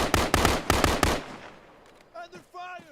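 Rapid bursts of suppressive automatic gunfire in the military shooter game Arma 3, loud and close for about a second before dying into echo, followed by brief voice-like tones near the end.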